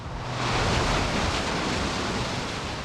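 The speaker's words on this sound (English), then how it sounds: "The skies may have dried up this morning, but massive waves continued to hit the coast." Massive ocean waves pounding the Santa Barbara coast in strong wind, a loud continuous roar of surf and rushing wind with no break.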